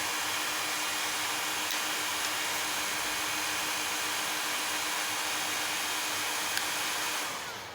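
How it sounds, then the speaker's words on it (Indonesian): Two cooling fans of a 3000W low-frequency inverter whir steadily under load, a constant close broadband hiss with a faint hum that eases off at the very end, no speech. "di sini kipas atau fan sudah berfungsi dengan normal ya. Di sini dua-duanya berputar karena suhu inverter naik di sini"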